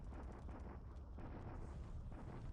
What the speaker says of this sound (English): Typical Allied bombardments in northern China.